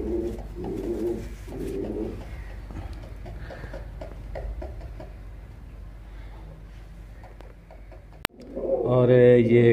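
Low flyer pigeons kept as pets coo in soft repeated rolling bursts close by, with a sharp click and a louder nearby coo at the end.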